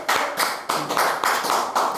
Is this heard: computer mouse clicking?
no